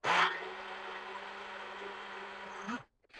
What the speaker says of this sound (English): put it in our blender and blend it for about 30 seconds to about 1 minute